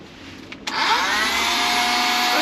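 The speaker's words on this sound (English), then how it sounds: "So we've got power up to this socket now, so that we can hoover up, clean up after all the cutting and drilling" A small handheld vacuum cleaner powered from a 12-volt socket switches on with a click and then whirs steadily. The motor gives a loud, close, high-pitched whine that holds constant to the end, with no speech.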